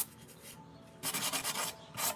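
A glazed pottery bowl is sanded by hand in a studio, giving short, quiet rasping strokes in two bursts separated by a brief pause.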